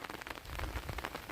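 Untimely late-October rain falling on a field of Swarna paddy rice, a brief dense patter of drops striking close by, steady and moderately loud.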